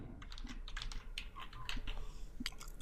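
Quick, light keystrokes clatter on a computer keyboard in an irregular burst, close and fairly quiet, with no talking.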